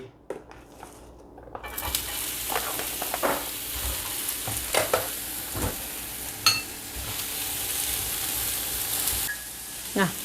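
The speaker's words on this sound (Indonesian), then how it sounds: "ini aku masak sayurnya dulu untuk keke" Vegetables sizzle and fry in a pan while being stirred, with continuous sizzling and repeated scraping and clattering of the utensil against the pan, close up.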